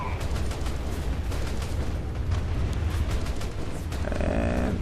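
Naval guns firing in bursts during a night battle in War Thunder, a dense, continuous barrage of booming shots and rumble, loud and close, with no talking.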